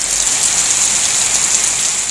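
Heavy monsoon downpour over farmland around Bhitta, Hala and Matiari in Sindh, Pakistan, a dense, steady hiss of rain pounding surfaces, loud and continuous with no pauses or voices.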